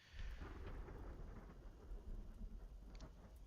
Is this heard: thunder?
yes